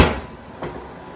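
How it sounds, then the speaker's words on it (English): Garlic cloves being smashed in a kitchen during fish and cabbage prep: one sharp thud on a board, then a second softer knock about half a second later, with no talking. "Smash up our garlic"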